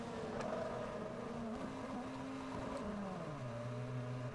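Felipe Massa's Ferrari Formula 1 car rolls into the pit box during 2006 French Grand Prix practice, a steady low engine drone that drops in pitch as it slows, heard faint and alone.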